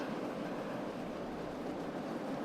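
A metro train in the Cities: Skylines game runs along, a faint, steady rolling rumble with a soft clickety-clack of wheels, no voices over it.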